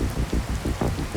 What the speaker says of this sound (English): The rain is so heavy, you can't see more than a few metres in front of you